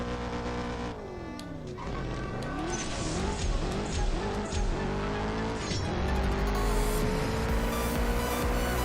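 Racing car from the mobile game CSR2 revving hard with squealing tires, a loud continuous engine whine sweeping up and down through gear shifts for the whole stretch.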